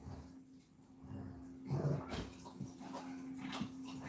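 Small puppies scuffle and play-fight over a fake orange indoors, giving a few close, soft whimpers, yips and growly grunts over a steady low background hum.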